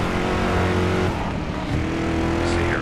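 Engine of a 1973 Mustang Mach 1 in the racing game Driver San Francisco revs and accelerates, a loud close roar whose pitch dips midway, then climbs again, with a faint tire squeal at the end.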